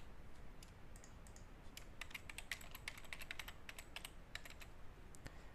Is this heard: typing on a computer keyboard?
yes